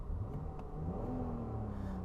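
A 2002 BMW 5 Series engine idles smoothly, a low steady hum with a faint whir that stays even and calm, heard from inside the car.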